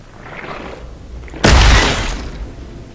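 A shotgun fires once in the video game Scorn: a single loud, sharp blast with a rumbling tail that fades over about a second, after a quiet, murky ambience.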